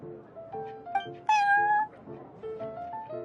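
Prince, the cat at the Cat's Tail in the video game Genshin Impact, gives several short meows in a row, with one louder, longer meow in the middle, close and clear.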